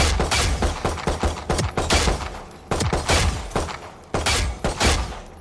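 Rapid pistol gunfire at a practice range in Valorant, a dense run of sharp, loud shots in quick bursts with brief gaps, close and alone.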